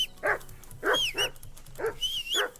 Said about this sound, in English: Henry! Call that dog to heel.